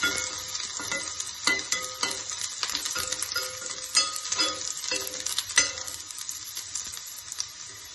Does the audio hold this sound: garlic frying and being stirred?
yes